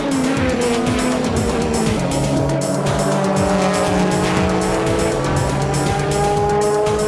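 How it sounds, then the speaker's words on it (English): Denso Toyota Supra race car roaring down the final straight of a JGTC race, loud sustained engine whine with rising and falling pitch, other race cars audible alongside, no talk. "Here comes the Denso Supra on the final straight, and it takes the lead before the Esso Supra can get out."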